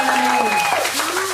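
A church congregation applauds and cheers in continuous rushing clapping, with voices singing or calling out over it the whole time.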